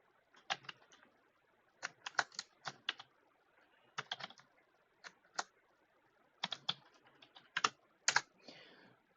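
Clicky bursts of typing on a computer keyboard while writing code, irregular clusters of quick keystrokes separated by short pauses, close and clear in a quiet room.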